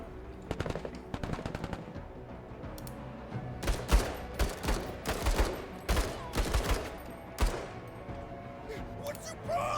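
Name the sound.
gunfire from mech shooting in video game Menace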